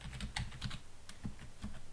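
Keystrokes on a computer keyboard, a quick irregular run of light clicks close up with no talking.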